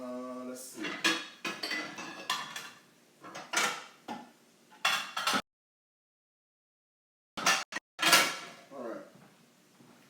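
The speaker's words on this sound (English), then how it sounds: "Let me grab a little something to dish this up in" Plates and dishes clatter and clink in a home kitchen during lunch cooking, several sharp bursts of rattling crockery and cutlery with a brief silent gap, and a voice speaking.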